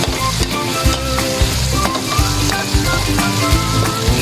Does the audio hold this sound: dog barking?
no